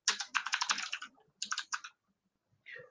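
Computer keyboard typing in Vim insert mode: quick bursts of close, crisp key clicks, a long run followed by a shorter flurry, then a pause and a faint final stroke.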